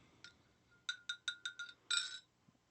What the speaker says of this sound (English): That's my tea, by the way, if you can hear it clinking around.